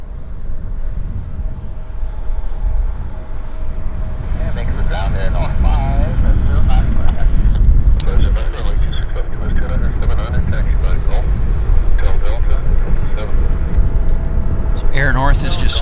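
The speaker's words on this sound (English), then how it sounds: "Turning on to the active, we have a Delta Embraer operating flight 3935 down to Seattle." Steady jet rumble and whine from a Delta Embraer turning onto the active runway at Vancouver Airport, heard from a distance as a continuous low roar with a person talking over it.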